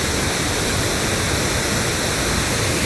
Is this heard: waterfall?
yes